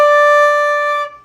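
A flute sounds a single clear D note with correct fingering: one steady, pure tone held for about a second, close and fairly loud, with no talk.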